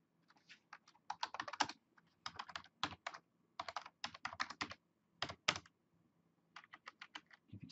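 Rapid bursts of computer keyboard typing, crisp close key clicks arriving in quick irregular runs separated by brief pauses, with nothing else beneath them.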